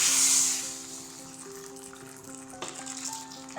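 Ghee tempering with cumin seeds and dried chilies sizzles in a hot pan, a bright crackling hiss strongest at the start and then settling into a steady low fry, with faint music underneath.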